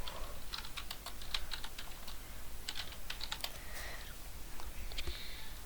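Rapid keystrokes on a computer keyboard as a channel name is typed, a close, steady run of crisp clicks with brief pauses, alone without talk.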